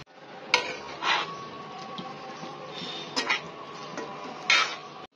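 A utensil stirs spices, oil, red chili powder, turmeric and salt into bitter gourd (karela) and fish in a pot, with a few sharp scraping clinks over a steady kitchen background.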